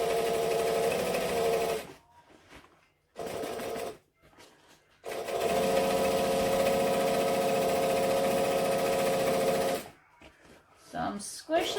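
A sewing machine stitches through vinyl in steady whirring runs with a clear motor whine, stopping and restarting several times in short bursts between pauses.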